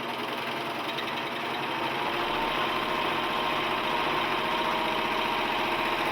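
A Singer 14J250 Stylist 4-thread serger running steadily on a table, a close, even mechanical hum with a fast stitching rhythm and slight vibration, growing a little louder over the span.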